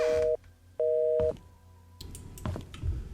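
A fax-machine phone in Painscreek Killings gives two loud bursts of busy tone, each cut off cleanly, followed by soft clunks and handling noises as the receiver is set down.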